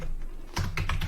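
Code being typed on a computer keyboard: a few quick, close key clicks in a short burst after a pause, alone without talk.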